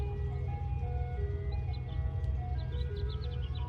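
An ice cream truck plays its looping tinkly jingle over a steady low engine and road rumble, the tune clear and continuous at moderate distance, with faint bird chirps and no speech.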